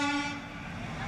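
A Mumbai local train rumbles loudly and continuously, with a sustained horn-like tonal blast at the start that fades into steady rail noise.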